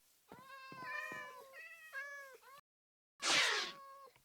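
A Minecraft cat meows several times in a row, close and clear, with harmonic mewing calls followed after a brief silence by one louder, harsher cry.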